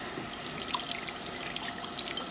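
Hot water runs from a kitchen tap into a sink while canning jars are rinsed, a soft continuous trickle and splash with small clinks, fairly quiet and alone.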